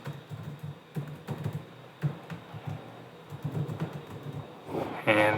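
A computer keyboard is typed on in short irregular bursts of clicking keys, fairly close, with a louder clatter near the end.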